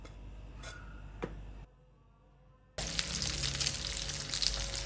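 Chicken shami kababs fry in hot oil with a bright, crackling sizzle that cuts out briefly, then returns loud and dense, with a few clicks from handling before the gap.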